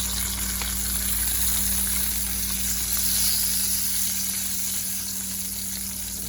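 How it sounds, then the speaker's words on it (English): Bacon frying in a pan, a steady loud sizzle and crackle that holds constant throughout with no pauses and no talking. "Y'all tired of watching this bacon fry."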